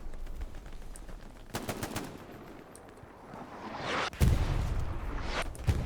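Gunfire in the video game Hell Let Loose on the Pierre's Farm map: bursts of machine-gun and rifle fire, some near and loud, others farther off, with a louder close volley near the end and faint bird coos beneath.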